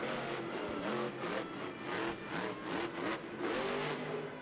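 A monster truck engine revs and roars in repeated surges as it reverses over a log jump in an indoor Monster Jam arena at the Dunkin' Donuts Center in Providence, RI, the pitch swelling and dipping in quick pulses.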